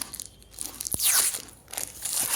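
A crunchy bite of a paneer dish such as paneer manchurian or chilli paneer, eaten with a fork: a brief sharp click, then loud crackling crunches and chewing close to the microphone.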